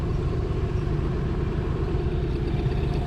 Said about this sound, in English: It's a little Mariner 8 horsepower with the forward reverse on the handle.